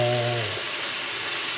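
Lamb shoulder and leg simmer in a pot for a spring navarin, giving a close, steady bubbling sizzle, with a brief low hum at the very start.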